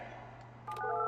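Telephone keypad tones in the Project Highrise office-building game: a steady hum, a short blip, then a burst of dialing beeps rising into a held two-tone signal, no one speaking.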